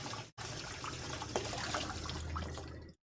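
Running water splashes over a cast-iron spider pan as it is rinsed, a steady close-up stream with light clinks of the pan, briefly cut off at the start and stopping at the end.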